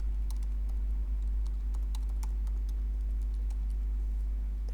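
Steady keystrokes on a computer keyboard as an email address is entered, a run of light clicks at an uneven pace over a constant low hum, close by, with no voices.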